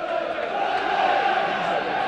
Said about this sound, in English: it's good noise round Turf Moor. The crowd definitely getting behind the team for Owen Coyle.